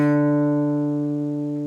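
Guitar D string played with a rest stroke, a single clean note ringing out and slowly decaying, clear and close with no other sounds.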